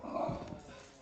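A dog gives a brief, muffled bark-like yelp indoors, fairly faint against steady room noise.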